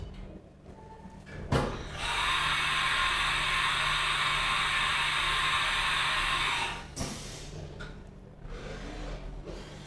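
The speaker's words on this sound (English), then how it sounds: "So I'm going to run the program again at full speed, full rapids, so you can see how the machine performs." A Haas Mini Mill 2 CNC machine traversing at full rapids, a loud bright whirring whine that starts abruptly, holds steady for about five seconds, then cuts off, with quieter mechanical clunks before and after.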